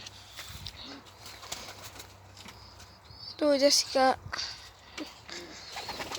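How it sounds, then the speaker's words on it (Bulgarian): A pigeon cooing outdoors, two short low throaty coos in quick succession near the middle, heard over quiet background noise with people talking faintly around it. "Ето, отвънка има гълъб."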